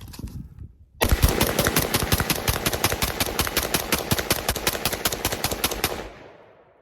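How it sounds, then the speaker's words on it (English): A PSA 11.5 AR fires a long, unbroken automatic string while emptying a drum magazine, around five seconds of loud, rapid, evenly spaced shots outdoors, closely recorded, with the echo fading at the end. "So let's just dump it and see."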